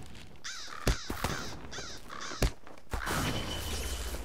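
Crows caw in a video game, several repeated harsh calls in quick bursts, with a couple of sharp hits between them, all fairly loud and close.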